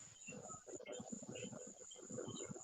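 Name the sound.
crickets chirping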